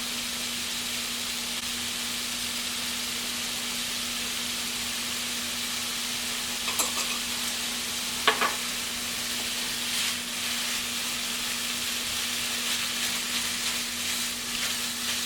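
Ground turkey seasoned with chili powder, oregano and basil sizzling steadily as it browns in a pan, a constant close frying hiss with a low electrical hum underneath and a couple of brief clinks, no talking.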